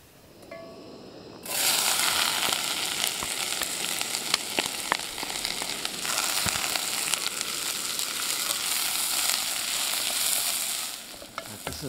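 A fillet steak fries in a pan over moderate heat at a campsite, its sizzle breaking in suddenly and then crackling and spitting steadily, loud and close, with no talk.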